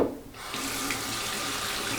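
Water runs steadily from a tap into a sink, starting after a brief quiet moment and continuing as a close, even splashing stream.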